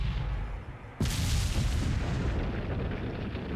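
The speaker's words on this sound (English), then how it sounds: "blow open the door with a cannon" A cannon blasts open a door in the video game Resident Evil 4: one sudden loud boom followed by a long, rumbling roar of debris and echo that slowly fades, with no voices.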